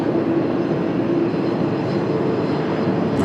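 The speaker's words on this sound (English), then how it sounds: "there is an exec jet right in front of the mic here" An executive jet takes off at Washington Dulles on a cloudy day, its engines a loud, steady roar that stays close and unbroken throughout with no talk.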